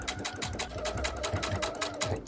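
A sewing machine stitches a long gathering (basting) stitch across a T-shirt, its needle chattering in a fast, even rhythm that runs steadily without pause, close and fairly loud, with no talk.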